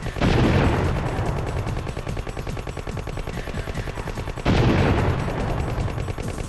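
Gunfire in the video game C: The Contra Adventure: rapid, continuous machine-gun bursts with heavy booming hits, loud and relentless, with a fresh volley starting about two-thirds of the way through.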